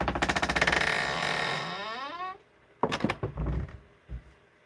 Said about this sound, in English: Go, shut the door.